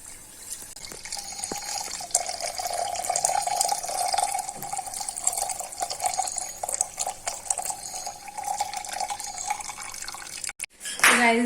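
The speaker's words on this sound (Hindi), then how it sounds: "ये गाइस उबलता हुआ घी बन चुका है, ये बन चुका है। अब इसे डाल देते हैं" Boiled ghee pours steadily into a container at home, a continuous liquid stream with light dripping and splashing running alone for about ten seconds before a brief clatter at the end.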